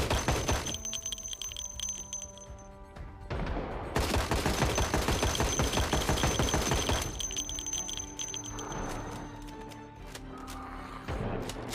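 Gunfire rattles in the Project Zomboid video game as fast, repeated shots pile into sustained bursts, loud and close, while a steady beeping alarm tone runs underneath.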